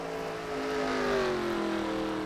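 NASCAR-style race cars on the last lap at California Speedway in a racing video game, engines droning steadily at high revs with a rising and falling whine as cars pass, loud and continuous.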